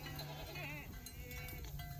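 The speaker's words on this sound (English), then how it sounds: "a little blaze-faced kid goat" A small blaze-faced kid goat bleats in a wavering cry out on a farm, fairly faint and close, with someone talking over it.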